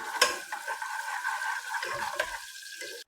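Ginger garlic paste stirred into masala in a pan for Rayalaseema mutton paya, a brief close scrape and soft sizzle with a sharp utensil tap near the start and another near the end.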